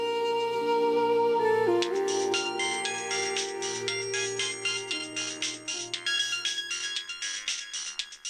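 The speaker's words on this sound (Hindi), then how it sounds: "अरे ये मोबाइल कब से गनगना रहा है" A mobile phone rings indoors with a repeating electronic melody, loud and steady. It starts over a low sustained musical tone, then continues alone as rapid pulsing notes.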